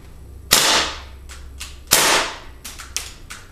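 A KWC Mini Uzi CO2 airgun fires semi-auto indoors: two sharp, loud reports ring out with a roomy tail, then four quicker, lighter shots follow in an uneven run.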